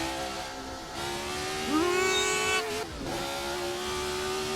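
A car accelerating in a racing sim video game: a close engine note that climbs through the revs, drops briefly at a gear change, then rises steadily again, loud and continuous, with no voice.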